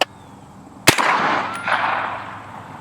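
A 9mm carbine shot strikes a propane tank outdoors: a sharp crack followed by a ringing metallic ricochet whine that trails off over about two seconds, close and loud, with no talking.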